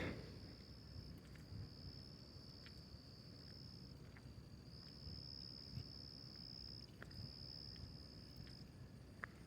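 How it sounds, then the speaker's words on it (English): Crickets chirp at night during a walk in Florence, a faint, steady trilling that pulses in long stretches over quiet background noise. "I like the crickets, though. The crickets are nice."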